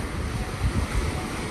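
Sea waves wash steadily near a shore by the Hassan II Mosque, a loud continuous surf roar mixed with wind buffeting the microphone, with no voices.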